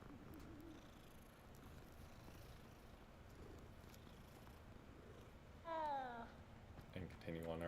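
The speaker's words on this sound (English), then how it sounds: "Gotta pet the cat." A cat in the video game Hogwarts Legacy, a soft low purr under background game ambience, followed near the end by a few short meows, fairly quiet and close.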